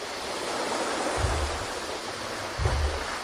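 Ocean waves washing on a shore, a steady broad hiss of surf with two soft low surges as waves roll in, continuous and alone without voices.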